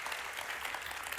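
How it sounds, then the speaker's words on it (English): Audience applause in a talk venue, a dense wash of many hands clapping at moderate level for a brief stretch. "Give yourselves a round of applause."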